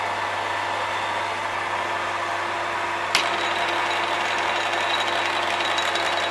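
A 1940s Qualos metal lathe runs at its highest speed, a steady, fairly quiet mechanical hum with faint whine, broken once midway by a single sharp click before the drone carries on evenly.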